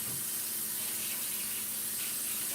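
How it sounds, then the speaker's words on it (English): Kitchen tap water runs steadily into a sink, a close, even hiss of flow with no voices. "I'm going to go talk a little softer so y'all can hear all the water"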